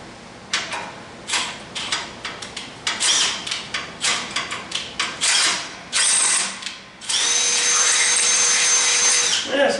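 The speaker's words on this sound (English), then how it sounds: "These little Milwaukee drills are quite strong." A small Milwaukee cordless drill whirs in short repeated bursts, stopping and starting with ratcheting clicks, then runs steadily for a sustained stretch near the end, loud and close with no talking.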